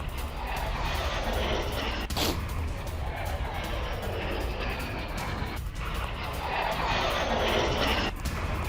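A Ukrainian missile streaks past at very low altitude, a loud sustained roaring rush with whooshing swells that fade and rise again across the whole stretch, no voices.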